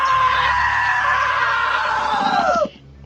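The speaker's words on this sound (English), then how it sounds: "Now that was a great scream." A long, sustained scream from a character in the video game What Remains of Edith Finch, loud and close, holding steady for a couple of seconds before cutting off abruptly into a low background hum.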